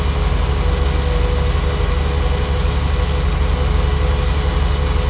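An overheated tractor engine drones at a steady idle, loud, low and continuous, with no change in pitch throughout.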